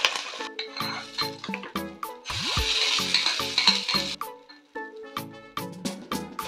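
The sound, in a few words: mustard seed tempering poured into coconut chutney and stirred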